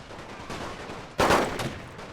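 Sudden burst of rapid gunfire from a World War I-era machine gun on the Western Front in the strategy game Total War: Great War mod, loud and dense for about a second, then trailing off into lingering echoes.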